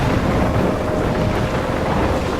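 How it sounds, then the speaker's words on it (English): A thunderstorm in the game Life Is Strange roars loud and steady, a dense wash of wind and rain with low rumbling throughout and no clear breaks. "I'm trapped in a storm?"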